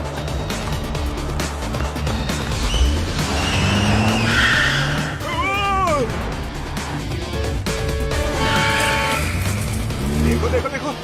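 A car skids recklessly with a loud tire squeal and engine roar in the middle, while voices talk and shout excitedly over busy street noise and music.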